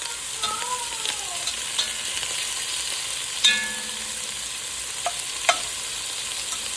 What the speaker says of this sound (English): And you just want to kind of spread it around so that all the meat can actually cook.